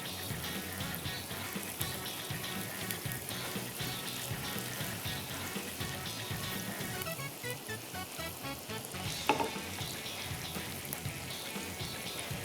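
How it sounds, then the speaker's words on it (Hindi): Garlic and onion sauté gently in a pan, giving a steady, dense sizzle that hisses continuously at moderate loudness with no talk over it. "इसको हल्का सा सॉटे करना है ताकि ट्रांसलूसेंट हो जाए ये गार्लिक एंड अनियन।"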